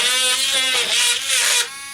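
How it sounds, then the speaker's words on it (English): A Saker mini cordless rotary tool drilling holes into a plant container gives a loud, close, high-pitched whine that wavers as the bit bites in, then drops off sharply near the end. "And it just drills right on in."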